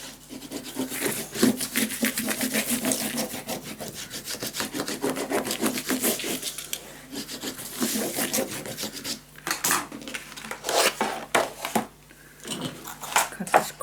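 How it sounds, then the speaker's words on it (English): Paper being burnished down onto a scrapbook mini album page, a steady close rubbing and scraping that runs nearly continuously in repeated strokes, with short pauses and a few sharper scuffs near the end. "Flip it around, burnish it down."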